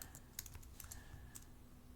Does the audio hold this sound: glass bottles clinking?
no